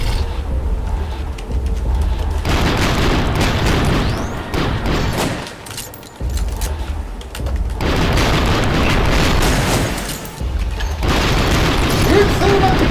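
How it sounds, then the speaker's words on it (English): Gunfire in the VR video game Sairento, Vive version, comes in repeated dense bursts of booming shots and explosions with brief lulls between volleys. A player's voice occasionally sounds beneath the action. "Weird thing about the guns in the Vive version, they're quieter?"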